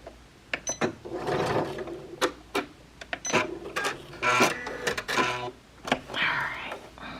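A sewing machine stitches fabric for a dress top, running right up to the edge in short, rapid mechanical bursts of chattering stitches, with a voice speaking between runs.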